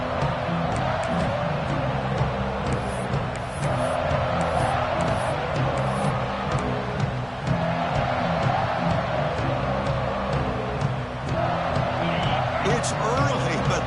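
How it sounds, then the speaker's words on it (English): Stadium crowd noise in a football video game, a continuous roar of cheering throughout at moderate level with a few brief bursts, under a commentator's voice. "this crowd is fired up. Listen to this noise here"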